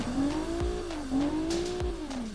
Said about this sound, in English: Let's give our new engine a bit of a listen from our VR6 clone.